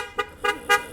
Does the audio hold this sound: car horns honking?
yes